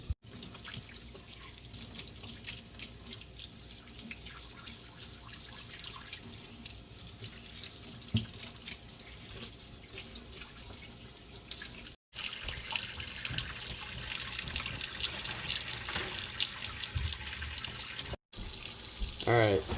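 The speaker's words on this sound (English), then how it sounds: "Nick's washing off the fish." A kitchen tap runs steadily indoors while freshly caught trout are washed, giving a continuous close hiss and splash of water into a sink, briefly cut off twice before resuming with a slightly louder rush.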